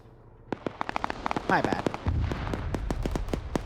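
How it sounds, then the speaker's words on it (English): Explosions and sharp gunfire-like bangs ring out in an online multiplayer battle game, a rapid series of cracks with a rumbling blast in the distance, while a voice speaks briefly over the top. "Explosion just happened in the distance."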